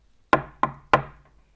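Three firm knocks on a convent door, evenly spaced and close, each sharp rap ringing briefly before silence.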